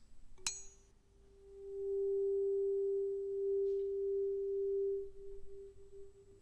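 An unweighted tuning fork gives a sharp strike and then rings a pure, steady tone. The tone swells, holds for about three seconds and then fades, with no talking.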